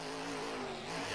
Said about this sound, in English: Revving up that engine.